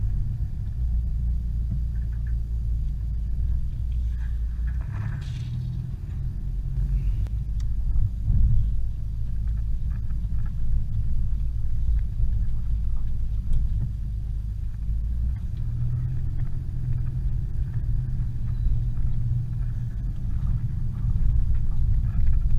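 4x4 driving along the Canning Stock Route in outback Australia, with a steady low rumble from the engine and tyres running the whole time, loud and close, easy going apart from a few rocky patches.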